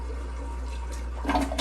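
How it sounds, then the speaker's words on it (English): A toilet flushing after water is poured into the bowl during a power outage, rising into a brief rush of water and swirl near the end, with a steady low hum underneath. "that will flush the toilet"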